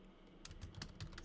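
Soft keystrokes tap on a computer keyboard, a short irregular run of faint clicks over quiet room noise.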